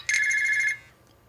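The "Cell" ringtone on a Google Sooner prototype phone plays a bright, steady electronic trill with a fast pulsing warble, lasting most of a second before cutting off cleanly to quiet.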